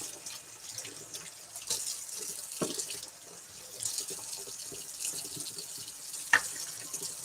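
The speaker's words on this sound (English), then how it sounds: "this looks like the water's running clear" Tap water runs into a sink while a paint brush used for wet-on-wet oil painting is rinsed, a soft steady stream with a few splashes and small knocks, close and fairly quiet.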